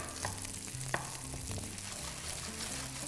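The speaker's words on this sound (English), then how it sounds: "So you just fry it off until it's nice brownish" Chilies frying in a pan until brown, a steady close sizzle and crackle with a few sharp clicks of stirring, no voices.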